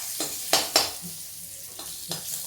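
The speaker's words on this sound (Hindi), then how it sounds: "मेरा जीरा तड़क गया है" Cumin seeds and curry leaves crackle in hot oil while making gobhi paratha filling, a few sharp pops and spits standing out over a soft, steady sizzle, close and fairly quiet with no talk.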